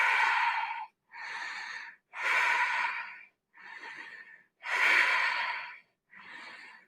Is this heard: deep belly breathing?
yes